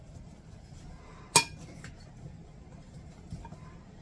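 A spoon clinks once against a pan of swamp potatoes with kielbasa, a single sharp metallic tap over quiet background with a few faint scrapes.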